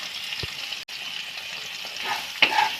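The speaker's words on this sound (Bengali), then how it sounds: "এই নুন আর হলুদকে ভালো করে আলুর সাথে মিশিয়ে নিলাম" Potatoes being stirred with salt and turmeric in hot oil in a kadai: a steady frying sizzle with scraping stir strokes and a few sharper clinks, close up and without speech.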